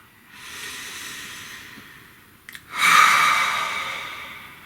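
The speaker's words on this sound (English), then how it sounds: "Take a nice deep breath." Someone takes a deep breath: a long, soft airy inhale through the nose is followed, after a brief catch, by a louder, fuller exhale that fades out slowly, close and alone.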